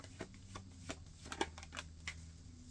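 Tarot cards being shuffled and drawn close up, a quiet string of soft riffling flicks and snaps with no talking over them.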